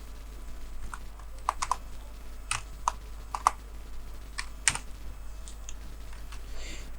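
Typing code on a computer keyboard, an irregular run of crisp close keystrokes in short clusters with brief pauses, no talking.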